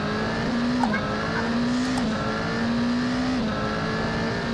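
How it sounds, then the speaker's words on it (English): LMP2 prototype race car engine in Assetto Corsa lapping Imola, a steady loud onboard drone holding near-constant pitch with brief dips at gear changes, over continuous road and wind noise, with no talking. "this is of course Assetto Corsa, and we're racing an LMP2 around Assetto Corsa at Imola"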